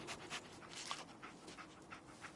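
Dogmeat, the dog companion from Fallout 4, pants in quick rhythmic breaths, close and steady, with no talk over it.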